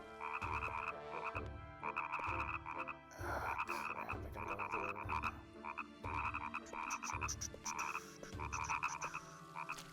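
A frog croaks repeatedly in Nightmare Before Christmas: Oogie's Revenge, loud rhythmic bursts of raspy calls in short clusters over a constant game background hum, with no voices.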